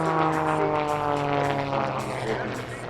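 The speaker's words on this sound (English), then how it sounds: "The energy of the plane drops just a little as they come into lap 2." A propeller airplane flies a display at Farnborough Airshow, its steady droning engine tone loud and continuous throughout, fading slightly toward the end.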